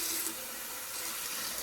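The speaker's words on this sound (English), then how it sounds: "Some nice hot tap water." Hot water runs from a kitchen tap into a can in a steady, close hiss of splashing that holds even throughout.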